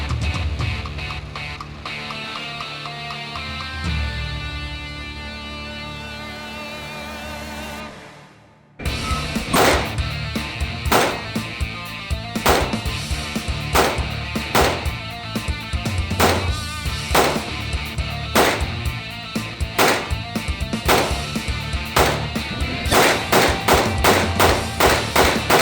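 Springfield Echelon Comp 9mm pistol firing a long string of sharp, loud shots at an uneven, rapid pace after a stretch of music, each report cracking out over steady background noise.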